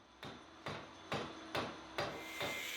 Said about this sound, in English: Acquire expertise like tapping these holes and hitting the Beyblade with a hammer.